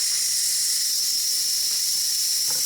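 Steam vents from an Instant Pot pressure cooker in a loud, unbroken high hiss that holds steady and close from start to finish.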